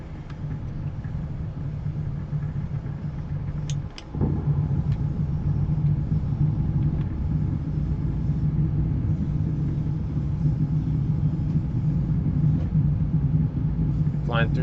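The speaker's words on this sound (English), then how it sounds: "Flying through the storm here." Steady low engine drone and rumble of an aircraft flying through a dust storm in the Flight of Nova game, continuous and fairly loud, with a brief dip near the start and a faint rising whine toward the end.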